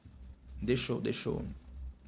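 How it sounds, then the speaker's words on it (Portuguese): Keystrokes on a computer keyboard clatter in two short bursts, close and moderately loud, against a quiet room. "E eu vou digitando aqui no computador"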